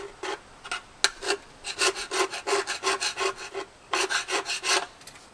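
Hand scraper of the Super Scraper brand dragged over pitted metal on a classic Cutlass, producing a series of rough, rasping strokes in a steady rhythm with a short pause midway, close and fairly loud.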